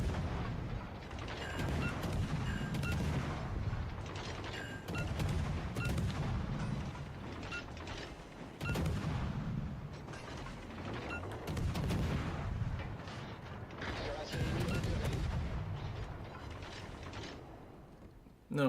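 Ship guns boom repeatedly in a World of Warships: Legends naval battle, the loud salvos mixed with mechanical clanking and game effects throughout.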